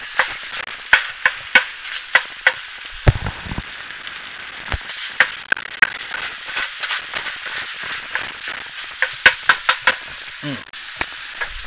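Pierogies stirred in a frying pan, with a steady sizzle under a run of sharp scraping and clacking strokes from a utensil against the pan, close and fairly loud, repeating irregularly throughout.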